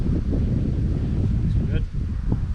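Wind buffets beekeeping gear during an outdoor hive inspection, a steady low rushing and flapping noise close to the microphone, with a few faint knocks and rustles throughout.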